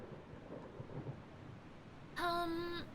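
A thunderstorm in the video game Eastshade brings a steady wash of rain with low rumbles underneath, and a brief tonal chime sounds near the end.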